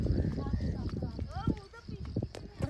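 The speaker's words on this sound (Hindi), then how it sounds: "ये फर्स्ट टाइम घोड़े के ऊपर बैठा है।" Hooves clip-clop unevenly as a child rides a horse for the first time, close and fairly loud, with someone talking over the steps.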